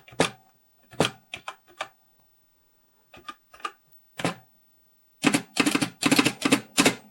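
Keys clack on a TRS-80 Model 1 keyboard after a keyboard mod, sparse single strokes and short bursts separated by pauses, ending in a quicker run of taps, close and alone.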